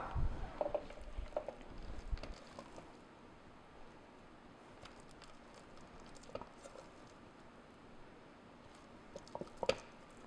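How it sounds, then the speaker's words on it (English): A spatula spreads sticky date filling over a crust, giving soft, quiet squishing and patting sounds, irregular and close, with no talking. "And we're just going to spread that on top of our crust."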